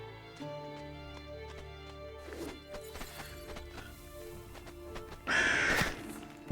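Crows caw a few times in the Darkhaven video game, set over a steady musical score with scattered clanks and thuds. A louder burst comes near the end.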